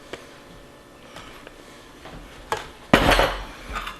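Rhubarb pieces tumble into a 9 by 13 baking dish for a crumble cobbler, giving a few soft clinks and rattles early on, then a louder burst of clattering and scraping near the end, with no voices.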